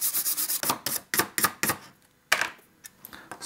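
A matte black sound card circuit board is scrubbed clean in bursts of brisk strokes, each a close, rasping swish with short pauses between, a steady rhythm that breaks off and then resumes.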